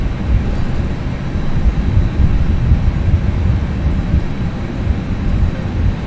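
FSLabs A320 airliner in the Prepar3D flight simulator, engines running as it begins its takeoff: a steady, loud low-pitched roar and rumble with a broadband wash, continuous and unbroken with no voices.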